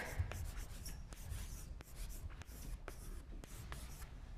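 Chalk or marker strokes on a board during an economics lecture on insurance, soft scratchy rubbing in short repeated strokes with brief taps, fairly close and quiet against a low room rumble.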